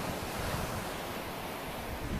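Surf from the incoming tide rolls steadily onto the beach, a dense, even rushing wash mixed with wind noise on the microphone.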